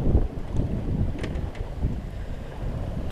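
A sailboat runs under full sail down the coast of Sardinia from Corsica, with steady roaring wind buffeting the microphone, rushing water and low hull noise continuous and loud throughout.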